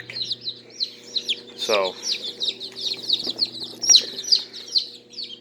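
Dozens of newly hatched chicks, with ducklings among them, cheep in a dense, steady chorus of high peeps, close by, while someone talks briefly over them.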